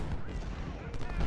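Musket volleys and cannon fire in the Civil War battle game Ultimate General: Civil War at Gettysburg, heard as a dense, continuous crackle of distant shots with low booms underneath, steady and moderately loud.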